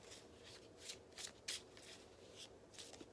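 Cards from a tarot-style deck are shuffled and one is pulled, a close, quiet run of soft riffling bursts and papery slides with a few sharper snaps.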